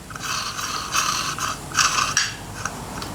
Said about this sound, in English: we're going to put this M6 countersunk head screw through from the other side there, and we'll just spin that down